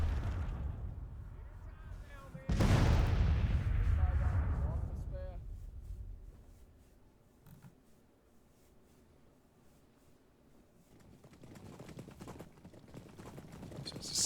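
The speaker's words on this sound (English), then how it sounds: "Washington Artillery is now starting to open up." Artillery in the Civil War strategy game Grand Tactician: The Civil War, a heavy cannon boom with rumbling decay early on, followed by faint distant thuds and quiet battlefield noise as a voice talks over it.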